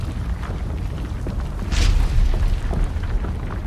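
A massive stone structure collapses in a deep, rumbling roar with a heavy crash of falling stones partway through, then continues as a loud, churning rumble.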